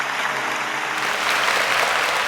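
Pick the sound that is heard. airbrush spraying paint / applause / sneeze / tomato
applause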